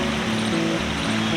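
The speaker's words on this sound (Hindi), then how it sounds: "पानी यहाँ पे गिर रहा है" Water falling at the Panchakki water mill fountain in Aurangabad, a steady close rushing splash with no pauses or voices.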